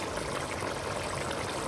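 Liquid from canned beans pours out in a steady, close, continuous splashing stream, with no talk over it.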